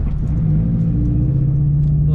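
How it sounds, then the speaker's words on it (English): A car engine rumbles steadily and close, with a low droning hum that climbs slightly in pitch as the vehicle pulls away. The engine runs without a break. "All right, I guess we're going for a little drive."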